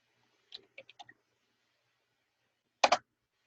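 Several light mouse clicks in quick succession in Microsoft Word, then after a pause a louder double click or key press, all close and isolated with no talk.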